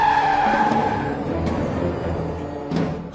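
A car brakes hard to a sudden stop, tires skidding with a high squeal at the start that fades into rumbling road noise, followed by a couple of brief thuds.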